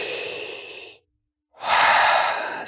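A deep breath during a guided relaxation: a long, close inhale, a brief pause of silence, then a slow, full exhale, with no talking.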